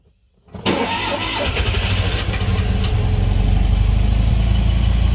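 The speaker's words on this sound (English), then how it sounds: "So we'll just see how she fires up." A car engine cranks and catches after a brief silence with a little choke applied, then settles into a loud, steady idle that builds slightly, close by and alone.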